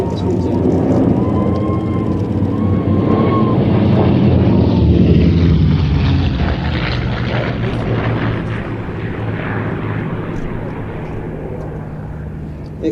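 A P-51 Mustang fighter flying an aerobatic display, its propeller engine roaring loud and continuous, swelling and easing as the speed changes through the routine, with a commentator's voice faintly underneath.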